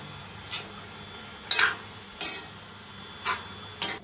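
Fresh spinach going into a hot cooking pan, with several sharp scraping stir strokes and light sizzling bursts spaced across a quiet kitchen background.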